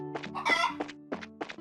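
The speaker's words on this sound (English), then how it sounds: "Chicken. It's chicken." Chickens clucking in the video game Trails in the Sky the 3rd: a quick run of close, clipped clucks and squawks over a low steady hum of game background music.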